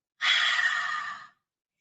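A single forceful exhale through the mouth during a yoga "rabbit breathing" exercise at a farm, a breathy rush lasting about a second against silence.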